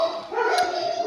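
A dog gives a short bark or yip indoors in a house full of dogs, one brief sharp call rising over a steady background hum.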